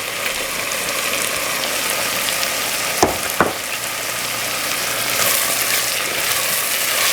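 Ingredients with dry spices and Maggi sizzle steadily in a pan for sautéed spinach, a continuous loud frying hiss broken by two sharp clinks of a utensil near the middle.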